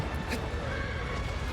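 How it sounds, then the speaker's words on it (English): A horse neighs in the video game Shadow of the Colossus, a whinny with hoof clip-clops against a constant noisy game background. "Oh, my horse."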